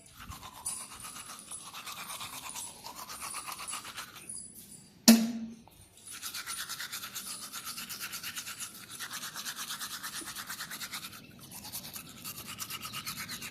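Steady scrubbing of a toothbrush against teeth, close and rhythmic, continuing for several seconds, broken by a brief sharp knock and a short pause before the brushing resumes.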